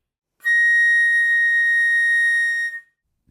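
A flute sounds one steady, pure high note, A sharp or B flat in the third octave, held for about two seconds and then cut off, clear and close with nothing else heard.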